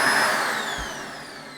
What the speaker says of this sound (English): lift that up and it sucks them all right up into the vacuum cleaner.